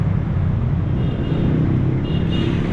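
A van rolls along a road in steady, continuous low engine and tyre rumble, close and even from start to finish, with no voices.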